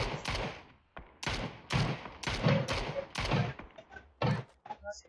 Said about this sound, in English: Massey's unloading with a mini-14 and missing all of his shots